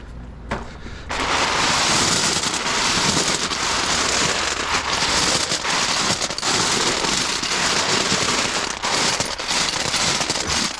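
Fire burning in a patio firepit filled with lava rocks gives a dense, continuous crackle and hiss after a brief quiet start, with sharp pops scattered through, fairly close and with no voices.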